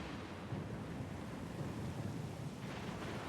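A stormy sea in the video game Pillars of Eternity II, heard as a steady, dense roar of wind, rain and surf that holds at an even level throughout with no pauses.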